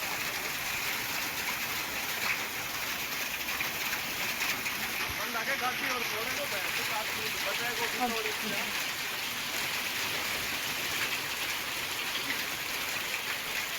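Heavy rain with hail pounding down outdoors in Pilani, Jhunjhunu, a steady dense wash of drops and scattered hard impacts that holds at an even level throughout.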